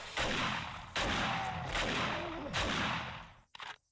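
Several sharp, loud gunshot blasts from a .44 revolver in the game 7 Days to Die, spaced roughly a second apart, with a final quick burst after a brief pause.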